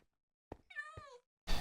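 A house cat gives one clear, drawn-out meow in a quiet indoor room, bracketed by soft thumps and a short burst of noise at the end.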